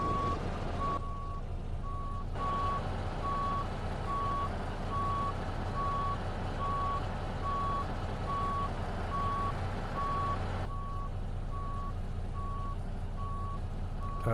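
Truck backing up a trailer in a trucking video game, steady evenly spaced reversing beeps over a continuous engine rumble, loud and close throughout.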